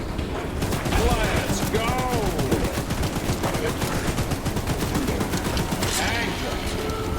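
Rapid bursts of gunfire from a gun in the Choo Choo Charles video game, loud and continuous across the clip, with someone talking and shouting over the shots.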